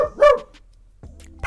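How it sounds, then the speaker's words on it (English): Bobby the dog gives a sharp, loud bark close by, followed by a quieter thump or shuffle, with no talking over it. "Bobby just barked in the middle of my sentence."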